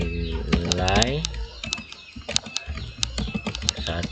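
Computer keys are tapped in a quick, irregular run of close clicks, with a voice talking over the first part.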